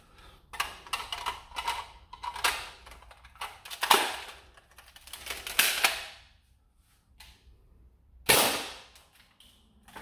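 A modded Nerf Shellstrike blaster is handled and fired, giving a string of sharp, close cracks and clacks, some in quick bursts, separated by quiet gaps and one loud final shot.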